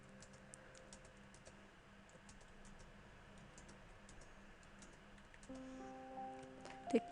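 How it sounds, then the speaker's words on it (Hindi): Quick, light clicks of someone typing the letters ABCD on a computer keyboard, faint and evenly spaced against a quiet room hum, then a few louder taps at the end. "चलिए हम ABCD टाइप कर लेते हैं"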